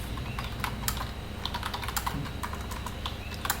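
Fingers typing a comment on a computer keyboard, a quick uneven run of close key clicks and taps over a low hum, no voices.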